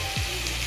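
Spices frying in a kadai for vangi bath rice, a steady close sizzle with a brief stirring scrape near the start, no talk.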